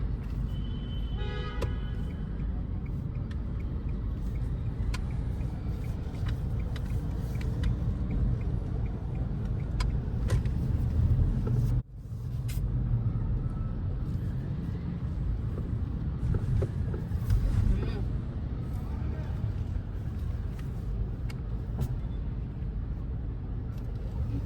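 Mahindra XUV 3XO driving through a traffic jam among rickshaws, a steady low road and engine rumble with a brief horn toot early on, a short dip in level midway, and scattered clatter throughout.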